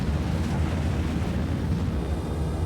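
Reverse engines on an Anvil Hawk spacecraft in Star Citizen fire in a dense, continuous low roar with broad rushing noise, loud and steady for a few seconds with no voices.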